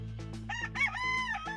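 Rooster crowing once in a long, drawn-out cock-a-doodle-doo, loud and close, over a steady low hum with a little clucking-like texture at the start; no talking.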